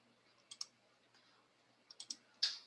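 Faint mouse clicks in two small groups, a double click near the start, then three quick clicks and a louder one at the end, isolated against near silence while a list button is pressed in a spreadsheet program.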